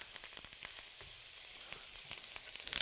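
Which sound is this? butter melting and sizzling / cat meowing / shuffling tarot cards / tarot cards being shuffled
butter melting and sizzling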